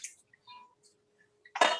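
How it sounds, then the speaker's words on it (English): Hand squeezing water out of dark green kale leaves, a few faint wet drips and squishes followed by a loud, close, wet squelch of the final hard squeeze. "And then I'm really going to give it a good squeeze."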